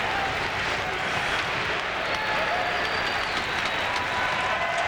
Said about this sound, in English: the BU fans are standing up in the corners and all over this building where there's red and white cheering their team